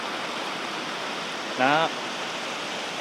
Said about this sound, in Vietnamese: đi giữa đường phải gặp con suối cho nên dừng lại chơi thôi